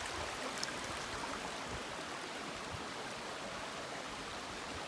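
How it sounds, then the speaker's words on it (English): A small brook runs steadily in a New England forest in Baxter State Park, its water making a continuous broadband rush and babble that stays even and close throughout, with no voices. "Typical little brook in New England. Running water."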